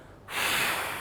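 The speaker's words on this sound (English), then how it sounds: "And when you start any pranayama technique off, you exhale first." One steady, breathy exhale through the nose begins the pranayama practice. It rises suddenly after a short quiet moment and stays close and fairly loud, with a soft hiss throughout.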